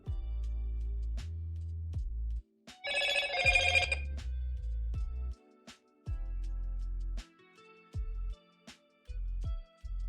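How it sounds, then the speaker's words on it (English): A mobile phone rings in short repeated bursts of bright electronic tone around the middle, surrounded by low steady background hum and thumps. "Why the heck is my phone going off again and again and again and again?"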